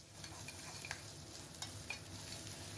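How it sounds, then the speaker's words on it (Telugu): Ginger garlic paste frying with onions and curry leaves in a pan, a soft steady sizzle with faint stirring scrapes and a few light taps, quiet and close. "ఇది కూడా పచ్చివాసన పోయినంత వరకు ఫ్రై అవనివ్వాలి"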